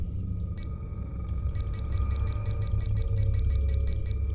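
An alarm clock rings in the game Observer, a rapid electronic beeping that starts in short bursts and then repeats steadily and loudly over a low droning background.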